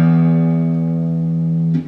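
The low E string of a guitar is plucked once and rings out close and clear, a sustained low tone that fades slightly before being damped after almost two seconds, with no other sound.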